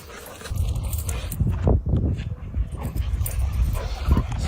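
At a doggy daycare, dogs give short barks, yips and whimpers in an irregular burst, close and fairly loud, with a voice speaking faintly underneath.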